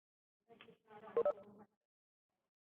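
A telephone keypad dials a phone number as a few short electronic beeps in quick succession, with a brief pause between groups of tones, in an otherwise quiet room.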